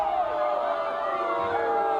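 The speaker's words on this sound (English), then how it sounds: "you can hear in the background the crowd's very upset about that one" A women's college soccer tournament crowd voices loud displeasure at a referee's call, a sustained mass of shouting and jeering voices filling the stadium without pause.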